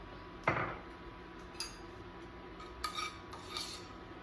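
A utensil stirs roasted tomatoes and parsley in a dish, giving one sharp clink followed by a few lighter scattered taps and scrapes against the dish, close by with no talking.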